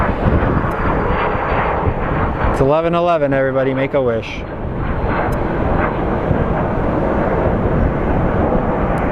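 A United airliner's jet engines roar loudly and continuously at Phoenix Sky Harbor airport, with a rising whine partway through, while someone talks over the noise.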